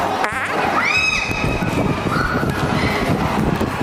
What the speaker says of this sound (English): Oh no, this boy is very dirty farting.